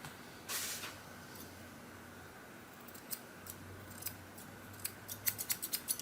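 Grooming shears snipping a little fur during a sharpness check, a run of quick, crisp blade clicks growing closer together toward the end over a faint background hiss.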